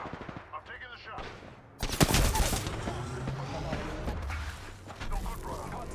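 Sharp gunfire bursts in a squad-based battle royale shooter match, loud and dense from the two-second mark onward, with a quieter stretch of game sounds and a voice beforehand.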